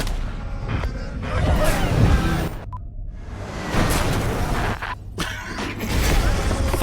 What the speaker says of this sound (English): Oh, we're shooting people with guns.